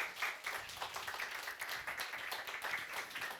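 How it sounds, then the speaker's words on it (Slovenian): Applause from a live audience at a streamed stage appearance, a steady wash of many hands clapping together, moderately loud and continuous without voices. "Malo aplavza"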